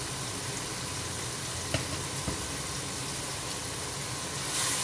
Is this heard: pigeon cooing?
no